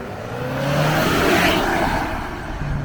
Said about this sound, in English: And there's the turbo.